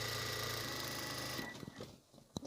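A sewing machine runs a long, continuous seam on a waist apron with a steady, fast mechanical whir, then stops, leaving a few small clicks and handling taps as the fabric is adjusted, close and quiet.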